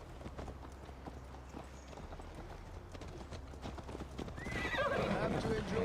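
A horse is ridden in the Viking-era game Assassin's Creed Valhalla, its hooves clip-clopping steadily beneath dialogue, then a loud whinny and heavier galloping near the end.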